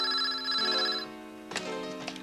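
A telephone rings with a bright, electronic warbling tone in two short bursts, fairly close and alone, with a soft clatter between the rings.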